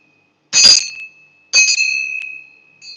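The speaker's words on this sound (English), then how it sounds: "This temple bells, I'm going to ring like this." Temple bells ring out two clear, bright strikes about a second apart, each sustaining a high shimmering tone that decays slowly, then a third softer ring begins, all in an otherwise silent room.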